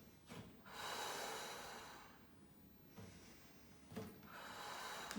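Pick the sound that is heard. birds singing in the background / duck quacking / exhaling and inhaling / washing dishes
exhaling and inhaling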